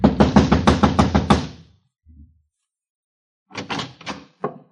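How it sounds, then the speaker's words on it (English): Knocking on an apartment door in a radio drama: a quick series of firm raps up close, a brief faint thump, a pause, then another burst of knocks followed by one last single rap. "I walked over and started knocking again."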